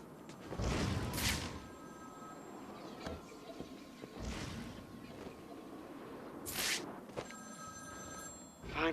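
A telephone rings during the Cold Call Killer side mission of Batman: Arkham City on PS4: two bursts of bright bell ringing several seconds apart over low, rumbling game ambience, fairly quiet overall.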